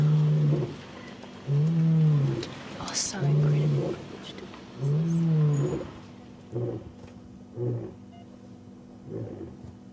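A wild lion roars at night in the Sabi Sand bush, a series of deep, drawn-out grunting calls that grow shorter and fainter toward the end, with soft voices murmuring in the background.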